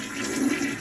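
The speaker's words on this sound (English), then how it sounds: "And attempting to flush the toilet yields" A toilet flushing close by, a steady rush of running water holding for the whole moment with no voices over it.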